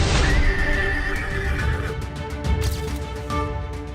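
A horse ridden by Tejashwi Yadav in Mokama, Bihar, gives a loud, close whinny at the start. Hoof clops and busy outdoor crowd noise follow.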